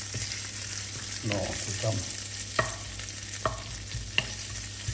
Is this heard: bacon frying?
yes